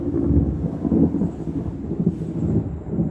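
A thunderstorm rolls overhead, deep thunder rumbling continuously in long low waves with a faint hiss of rain beneath, and no voices.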